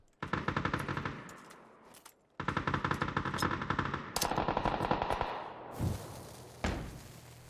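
Gunfire in the battle royale game PUBG, with bursts of rapid automatic shots separated by brief pauses, then a couple of heavier single shots. The shots are loud and close, with no talking.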